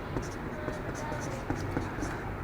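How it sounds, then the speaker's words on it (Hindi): Pen scratches out an NCERT maths example in short, quick strokes, close and fairly soft, with a steady background hiss. "एनसीईआरटी का एग्जाम्पल लिखते हैं हम लोग"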